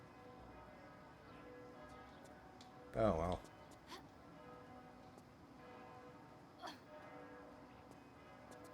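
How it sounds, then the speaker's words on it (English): Church bells ring in Rome in the video game Tomb Raider Chronicles. Their tones are faint and sustained in a quiet background, broken by a short burst of speech and a few scattered clicks. "I don't know what the fuck those bells are"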